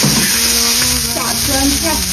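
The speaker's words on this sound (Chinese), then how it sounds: "起锅烧油，对，放入调料" Seasoning dropped into hot oil in a wok, giving a loud, continuous sizzle and crackle with voices talking over it in a rural Northeast Chinese home kitchen.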